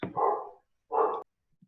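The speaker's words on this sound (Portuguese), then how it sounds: "Quem é que tem um cão?" A neighbour's dog downstairs gives two short, muffled barks, heard at a distance through the building with a pause between them and silence after.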